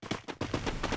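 Rapid bursts of video game gunfire crackle in quick succession, several sharp shots close together with a brief pause between volleys.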